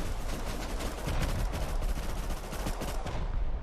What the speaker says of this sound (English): We've got a barrage of rockets coming in.